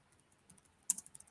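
Quick burst of computer keyboard typing as notes are entered, a cluster of sharp close clicks after a near-silent pause, no voices.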